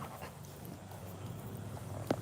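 Dogs panting quietly nearby, a steady soft rapid breathing rhythm running throughout, with a small whimper or sniff near the end and no talking.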